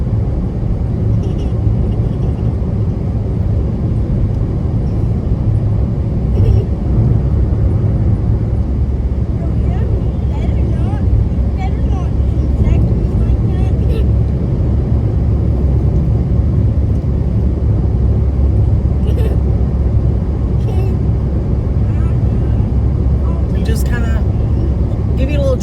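Car cruising along a highway through Montgomery, Alabama, a steady loud low road rumble and engine drone that holds constant throughout, with a person talking over the noise.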